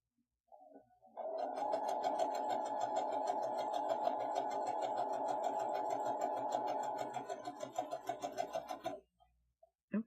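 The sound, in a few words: sewing machine stitching with Madam Sew gathering foot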